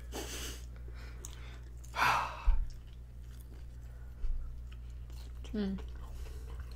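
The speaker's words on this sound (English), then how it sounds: "This is the ASMR munching part of the..." Close, quiet munching of food with a few soft bursts of chewing and crunching, while a low hum runs underneath and faint murmured voice sounds appear.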